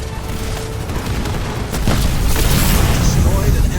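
An enemy structure blows up in Halo Wars 2: a deep, rumbling boom rises midway over a loud, continuous battle din, and a voice may sound faintly underneath.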